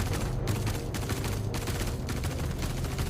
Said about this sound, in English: Now they're shooting at nothing.